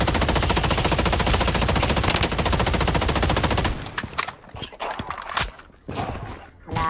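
Rapid automatic gunfire from the online shooter Bloodstrike rattles in a dense, loud burst for several seconds, then gives way to scattered sharper single shots and impacts.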